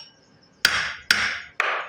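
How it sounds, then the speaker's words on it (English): Three sharp metallic taps of a hammer on a punch, driving out the clutch gear of a Remax hedge trimmer, each ringing briefly and spaced about half a second apart, close and alone. "Take a punch, set it on top of there, and then you're going to take a hammer and very lightly"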